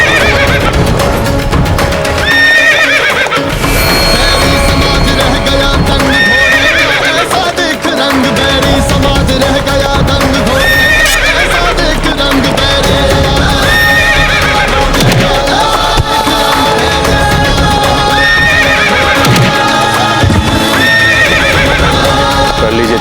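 Horse whinnying repeatedly over a steady clatter of hooves clip-clopping, loud and continuous alongside dense music in a Mughal-era battle scene with Maharana Pratap's horse Chetak.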